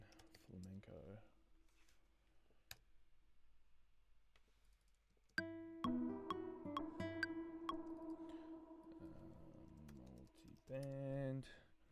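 Computer keyboard typing in a music production session, a loose run of quick clicks with scattered isolated taps, over soft electronic synth tones and a near voice talking.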